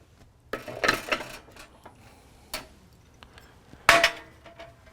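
Espresso grounds leveled and tamped in a portafilter with an ASO jack leveler and ASO tamper, sparse metallic clacks and scraping rattles in a few bursts, close by with quiet between, no talk.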